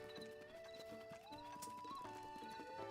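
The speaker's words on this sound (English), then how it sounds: "Honestly, I could probably get the horse out. If anything, that means the horse will be nearby," A horse in Zelda: Breath of the Wild whinnies with a rising, wavering cry over soft rhythmic hoof clip-clops, fairly faint and close.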